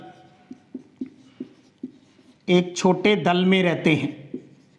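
A pen scratches out a short line by hand in a quiet room, several soft, separate strokes, followed by someone speaking Hindi.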